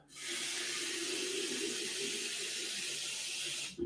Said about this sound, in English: I'm just going to go over here for a few segundos and fill up the water filter.